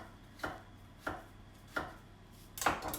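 Vegetables thinly chopped on a board for a vegetarian frittata: four distinct knife strikes at an even, unhurried pace, close and clear with no voices.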